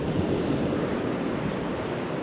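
Big sea waves crash against cliffs on the Holderness coast near Tunstall, a steady, loud broadband roar of surf with wind buffeting the microphone, no voices.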